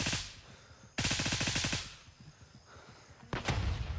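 A rifle fires in rapid full-auto bursts in Gray Zone Warfare, a full magazine emptied in loud, close, evenly spaced cracks, then a pause and a final short burst.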